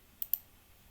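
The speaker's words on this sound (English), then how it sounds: "now I click close" Two quick, faint computer mouse clicks close together, set against a quiet background with no talking.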